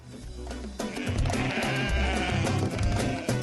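Sheep bleating at a Gambian livestock gathering, several overlapping loud calls close by over a busy outdoor background.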